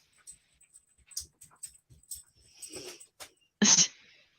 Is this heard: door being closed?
no